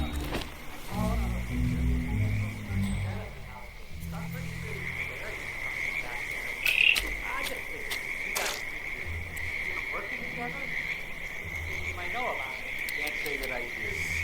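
Frogs croak in a Vermont suburban backyard habitat within the video game Hitman 2, a steady ambient chorus of repeated croaks mixed with insect trills, under intermittent game speech and low background tones.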